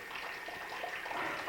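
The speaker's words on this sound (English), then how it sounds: "You can see a fair amount of water seeping in there" Water seeping and trickling inside a cave tunnel near a manhole, a soft continuous splashing gurgle with small drips, fairly close and faint, with no voices.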